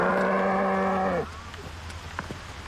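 A single long, loud moo from a cow on a farm in Schöllang in the Allgäu, heading home from pasture to the barn in late afternoon, then dropping away to quiet background.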